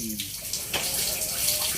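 Water runs steadily through a hito (catfish) hatchery setup on a farm, a continuous broadband splashing flow that stays at an even level throughout.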